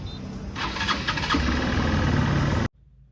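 Scooter engine starting: a starter churn that catches into a steady, close idle for a couple of seconds before cutting off abruptly.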